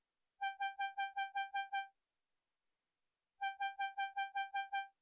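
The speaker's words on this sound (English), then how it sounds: "this Polestar lead, and it's playing a super simple repetitive pattern, just this repeating G note" A Xenology Polestar synth lead repeats a single G note in two bursts of eight even, clipped notes, separated by a gap of silence, bright and harmonically rich with nothing else playing.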